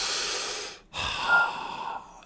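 One long deep breath drawn in and let out, close to the microphone, with a brief pause between the inhale and the exhale and no talking.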